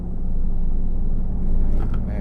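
A truck in Euro Truck Simulator 2 rolls over a stretch of gravel on an icy route, producing a dense, steady low rumble with a gritty texture. A voice talks over it.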